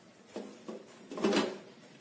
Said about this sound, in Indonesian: Segera tutup cetakannya